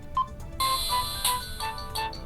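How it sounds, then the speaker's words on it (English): Standard ringtone of the Just 5 phone: a short electronic melody of bright beeping notes in quick sequence, clear and moderately loud, with no voices. "Here are the standard ringtones that come with this phone"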